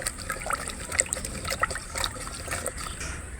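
Extra water is poured into an organic fertilizer solution, producing a close, uneven trickling and splashing stream of liquid with small gurgles, fairly loud and with no speech.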